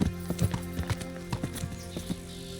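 A horse's hooves clip-clop at an uneven walking pace in the video game Kingdom Come: Deliverance, with clear close hoof strikes and faint ambient noise between them.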